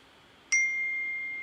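One clear, bright phone notification ding sounds close by, its tone ringing out and slowly fading over quiet room noise.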